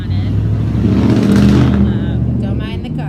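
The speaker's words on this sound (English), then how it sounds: "don't mind the car" A car drives past outside a pub, a steady engine rumble swelling toward the middle and fading again, heard close beneath a continuous speaking voice.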